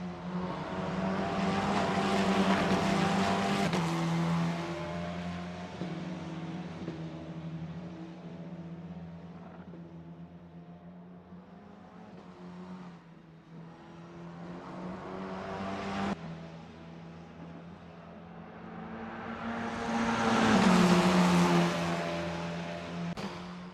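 A Formula 4 race car lapping Melbourne in the Assetto Corsa racing game, its engine note climbing and dropping through gear changes, loudest at the start and again near the end, with no voices over it.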